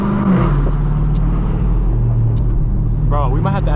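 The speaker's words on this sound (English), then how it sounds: "Oh, those downshifts are crazy." A Dodge Hellcat Redeye's engine roars loud and close from inside the car, holding a heavy rumble before sharp rising blips near the end, with a voice talking over it.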